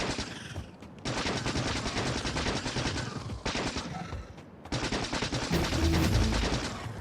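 Gun turrets in Factorio: Space Age fire in long, dense bursts of rapid automatic gunfire. It is loud and continuous, with brief gaps between the volleys and heavier low thuds near the end.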